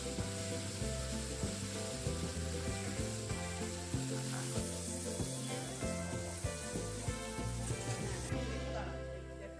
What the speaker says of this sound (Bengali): পেঁয়াজটাকেও কিন্তু বেশ ভালোভাবে ভেজে নিতে হবে।